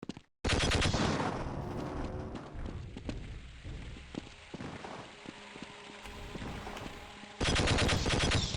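Rapid gunfire in the video game Half-Life, bursts of sharp repeated shots running almost continuously, loud and close, with a heavier blast at the start and another near the end.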